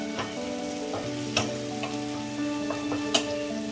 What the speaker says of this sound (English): Keep stirring it on high flame. The tomatoes is fried perfectly.